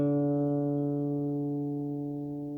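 Guitar strings sounded together at the 5th fret while tuning, a steady sustained ringing chord with clear harmonics that slowly decays over a few seconds, close and alone with no talking.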